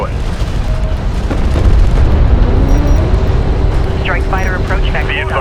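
Strike craft exploding in the real-time strategy game Homeworld: Deserts of Kharak, a loud low boom rolling over dense battle noise, with a spoken voice calling out alerts over the din.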